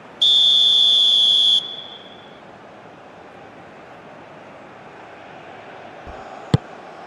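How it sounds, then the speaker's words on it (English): A referee's whistle in the football video game eFootball PES 2021 gives one loud, steady blast lasting about a second and a half, then trails off into quiet crowd ambience. "There's the whistle."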